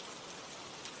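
Steady, soft rain falls in an even hiss with no breaks, quiet and continuous throughout.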